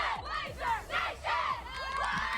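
A crowd of people celebrates a tug of war win in a sports league, shouting and cheering in loud overlapping waves of yells and whoops.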